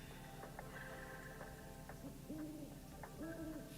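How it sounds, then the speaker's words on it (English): An owl hooting in the cozy life-sim game Palia, giving a few soft, low, wavering hoots in pairs, faint against a quiet ambient background with gentle ticking. "I hear an owl."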